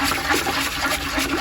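Fertilizer being stirred and pushed down into a bucket of water, a continuous close sloshing and swirling of liquid with no pauses, fairly loud and alone.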